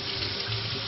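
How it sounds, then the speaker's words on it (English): Tap water running steadily over a whole raw chicken being rinsed in a sink, a close, loud continuous splashing rush with no talking. "So I'm going to give the bird a really nice rinse"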